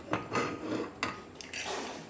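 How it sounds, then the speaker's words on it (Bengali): A pot set down on a gas stove in a home kitchen, heard as a few close metallic clanks and scrapes spread over about two seconds, with a brief rub between them. "আমি একটা চাপিয়ে দিচ্ছি গ্যাসের মধ্যে"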